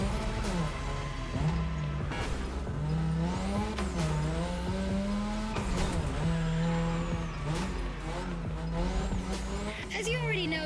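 Car drifting around a drift track in The Crew Motorfest, engine droning steadily with repeated tire squeals as it slides through corners, continuous and loud, with game music and a voice talking over it.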